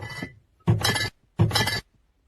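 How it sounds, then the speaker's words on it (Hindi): Glass liquor bottles clinking and rattling in two short, bright bursts separated by brief silence, close and fairly loud with no talking. "दारू की बोतल की आवाज"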